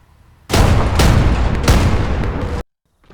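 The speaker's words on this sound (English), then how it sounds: "I've told the artillery where to fire" Artillery fire in the World War II video game Gates of Hell: a heavy, sustained barrage of booming blasts and gunfire rumbles for about two seconds, then cuts abruptly to silence.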